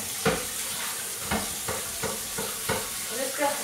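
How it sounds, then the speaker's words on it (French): A minced beef steak fries in an oversized pan with a steady sizzle, broken by several sharp scrapes and taps of a utensil against the pan. "Je vais me faire un steak haché"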